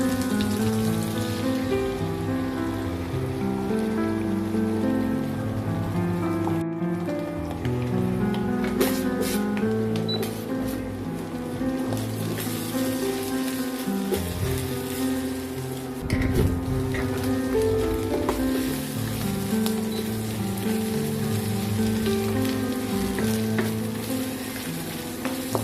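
An egg fries in a pan while Maggi goreng is being made, giving a continuous close sizzle and crackle with stirring and clatter mixed in, and occasional brief talk over it.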